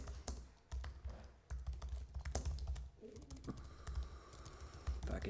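Rapid, uneven clatter of fingers typing on a computer keyboard, close and fairly loud, with a brief pause partway through and a steady background hum.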